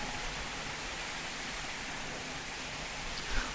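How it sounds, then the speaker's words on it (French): Steady rain pours into a church through open windows, a dense, even hiss of falling water close by and fairly loud, with one brief splash near the end. "Pasteur, je suis concerné que lorsque tu prêches, la pluie entre, ça mouille les gens."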